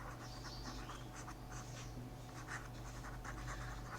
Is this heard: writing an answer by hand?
yes